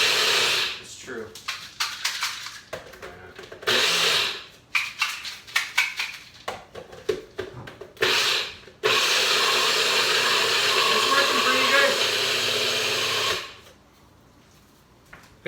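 A blender runs with its lid off while powdering ingredients for a warm apple raisin crisp, loud and close. Short bursts come first, then a long sustained whir that cuts off, with people talking around it.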